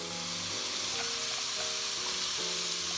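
Vegetables for lentil soup sizzling in a pot, a steady, dense frying hiss that holds at an even level throughout, close up with no voices.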